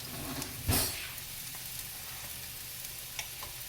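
Butter melts and sizzles in a hot frying pan, a soft, steady crackle with one brief louder clatter near the start.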